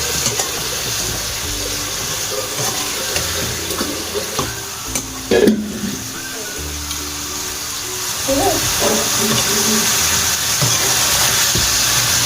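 Cauliflower goes into a pan of frying onions and tomatoes, setting off a loud, steady sizzle and hiss with a brief clatter as the pieces drop in, then continuous frying noise.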